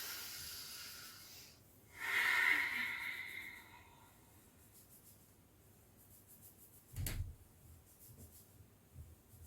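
One deep breath drawn in through the nose during a gentle winter yoga session, a soft airy inhale rising for about two seconds, followed by quiet stillness and a faint bump later.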